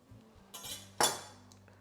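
Cutlery clinks against a plate while a knife and fork cut into cooked salmon, making two sharp metallic strikes with brief ringing and a faint scrape between them, close and clear, with no talk.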